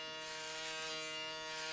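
An electric foil shaver working over a face during a classic hot towel barber shave gives a steady, close, even buzz for the whole short stretch, with no talking.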